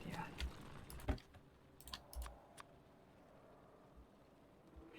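Scattered keystrokes on a computer keyboard while chatting in Discord, a few soft clicks and one louder tap early on, then a quiet stretch of low background noise.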